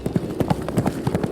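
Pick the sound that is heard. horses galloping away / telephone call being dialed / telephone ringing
horses galloping away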